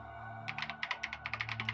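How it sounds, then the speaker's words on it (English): Rapid typing on a computer keyboard in the game Danganronpa, a quick run of close, crisp key clicks over a faint steady electronic hum. "She began typing again."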